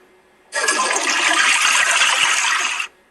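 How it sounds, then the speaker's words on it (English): A toilet flushes in one continuous rushing whoosh lasting a couple of seconds, fairly close, with no voices. "Don't forget to flush."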